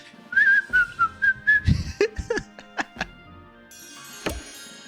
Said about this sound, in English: I would prefer to whistle. Whistle while you work.